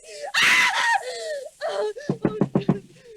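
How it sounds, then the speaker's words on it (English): A woman's piercing, frantic screams in a suspense thriller radio drama, a long shrill burst followed by shorter cries and gasping, choppy sobs, loud and close. "Why were you screaming?"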